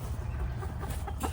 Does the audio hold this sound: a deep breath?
no